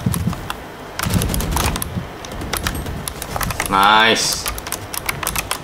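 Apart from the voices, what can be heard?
typing on a Razer Ornata V2 keyboard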